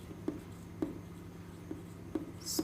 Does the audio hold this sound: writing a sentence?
yes